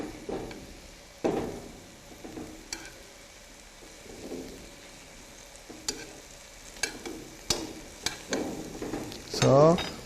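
Braised dried pollack (bugeo-jjim) sauce simmers and reduces in a pan while being stirred, giving a soft sizzle with scattered spoon scrapes and clinks and a louder stir near the end, with no voices.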